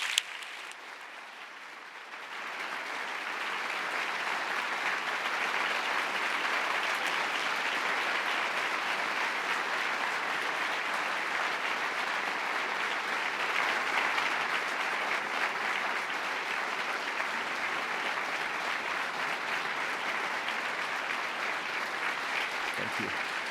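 A Nobel Prize lecture audience applauds steadily to welcome the lecturer to the stage, a dense, sustained wash of clapping that starts after a brief quieter moment and carries on evenly for over twenty seconds.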